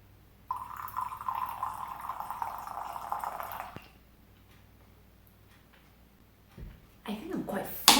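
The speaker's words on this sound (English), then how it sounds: "Generally, I pour my tea inside of my cup." Tea streams steadily from a flask into a cup for about three seconds, close and fairly loud, followed by quiet and then a few soft clinks and handling noises.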